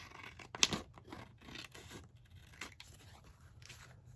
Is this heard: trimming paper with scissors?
yes